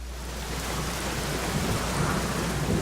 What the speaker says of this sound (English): Because it's dark and also there is a storm happening.